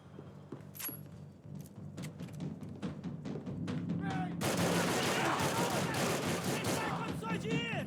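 Dense gunfire in the Max Payne 3 video game: sparse scattered shots give way to a loud, continuous barrage of rapid automatic fire with shouting voices mixed in.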